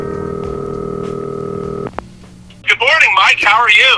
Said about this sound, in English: we can't get the show underway if we don't make that phone call